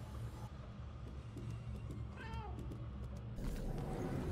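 A cat gives a single drawn-out meow in the game Murdered: Soul Suspect, mid-loud over a steady low rumble of ambient noise.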